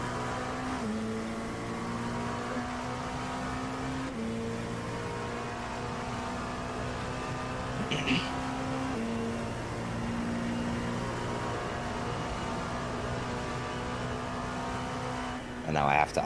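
A McLaren race car engine in a Le Mans racing video game, a steady loud high-revving drone that holds with slight pitch shifts and brief gear-change dips, continuous throughout.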